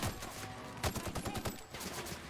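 Rapid burst of gunfire aimed at canid creatures in The Outer Worlds video game, a run of sharp close shots in quick rhythm over a busy game soundscape.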